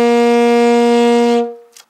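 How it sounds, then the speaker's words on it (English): A saxophone holds a G note, fingered with the top three keys, steady and loud for roughly a second and a half before cutting off, followed by a brief faint breath-like noise. "The third note going down the saxophone is a G note,"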